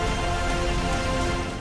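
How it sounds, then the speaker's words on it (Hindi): Steady rain falls on a cold Saturday in Gurugram, a dense, even hiss of drops running without pause or voices for the whole stretch. "ऐसी ठंड में गुरुग्राम में भी शनिवार को बादल बरस पड़े"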